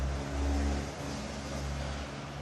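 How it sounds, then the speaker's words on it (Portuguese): A tractor passes by outdoors, its low engine rumble steady and muffled. It swells slightly, then holds at a moderate level, heard from indoors at a distance with no voices. "está passando um trator?"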